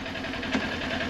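A motorcycle engine idles in first gear with the throttle untouched, a steady close mechanical putter holding an even level, one brief louder pulse midway.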